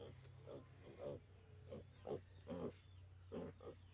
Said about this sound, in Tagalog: Yan yung mga biik.